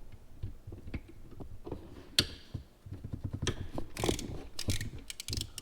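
Ratchet clicking as 10mm bolts are worked on an engine head during a 3rd-gen Toyota 4Runner build, with irregular close mechanical ticks, clinks and rattles throughout.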